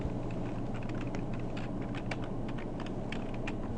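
Steady, close typing on a computer keyboard, with quick irregular key clicks continuing throughout without any talking.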